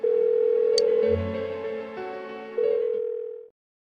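A ringing tone on an unanswered phone call in the video game Persona 4 Golden: a steady electronic ring tone with a brief break in the middle, then cut off after about three and a half seconds, heard alone.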